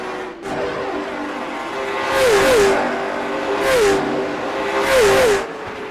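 Pavement late model race cars roar around the Milwaukee Mile oval, engines droning steadily with three loud pass-bys swelling and fading, each marked by a pitch-bending downshift.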